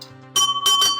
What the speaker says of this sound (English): let's ring our bell and make sure that we're all holding on tight as we're heading underground